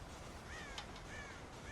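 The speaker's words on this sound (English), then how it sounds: "God damn crows!" Crows cawing in the Red Dead Redemption video game, several short harsh caws at a moderate distance over a steady ambient hiss of outdoor game background.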